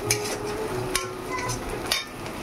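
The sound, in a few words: mashing ginger with a utensil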